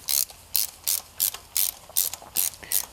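Ratchet wrench clicking while threading a spark plug into a VW 2.5L five-cylinder engine, about eight evenly spaced sharp bursts of pawl clicks, close and alone.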